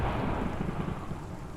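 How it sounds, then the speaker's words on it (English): Rolling thunder in a rainy storm inside a Pokémon-modded Minecraft game, a low continuous rumble with rain hiss, steady and moderately loud, no voices. "If the thunder still persists at that point"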